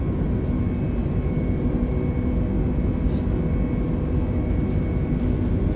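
Engines of an A32NX airliner roar at takeoff power in Microsoft Flight Simulator, a steady, dense, loud drone with a faint tonal whine, unbroken throughout with no talk.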